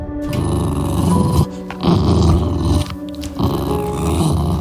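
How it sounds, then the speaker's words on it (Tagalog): Large black dogs growl in a deep, menacing sound effect for a horror story, loud and continuous with brief pauses between rumbling bursts. "Apat na malalaking asong itim ang humarang sa daraanan nila."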